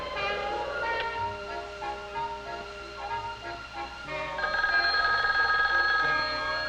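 An old-style telephone bell ringing on a direct-dialed long-distance call to Chicago, repeated trilling rings with a steady tone between them, heard alone, moderately loud.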